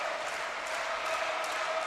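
Spectators on their feet at a 2014 NCAA volleyball tournament match between Wisconsin and Illinois State, set point pending, with a steady, dense roar of cheering and applause filling the arena throughout.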